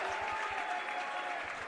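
High school boys basketball crowd in a gym, Belmont versus Kearsarge, applauding and cheering steadily at close range, a dense wash of clapping that fades slightly toward the end.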